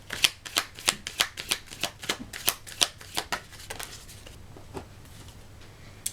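Tarot cards shuffled by hand for a card reading, a fast run of crisp riffling flicks in a steady rhythm that thins to a few scattered taps, close and alone.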